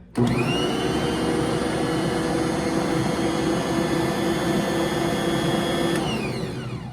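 An electric mixer blends ingredients that include yeast in one continuous, loud, steady motor hum, running for about six seconds before spinning down.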